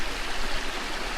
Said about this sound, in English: this whole trail follows this river